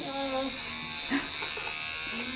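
A child brushes their teeth with a toothbrush, making soft buzzing scrubbing under a mother's close, warm talk. The brushing and the voice overlap throughout the short moment indoors.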